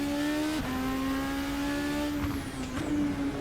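In Assetto Corsa, an RSS Supreme 2025 race car holds a steady, loud engine drone. The pitch drops briefly at an upshift, then the engine climbs and drones again.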